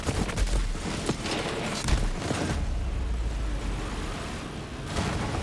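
Sustained automatic fire from the Unkempt Herald gun in Borderlands 3, a dense rattling barrage of shots and blasts running for several seconds with brief louder bursts, mostly alone without talk.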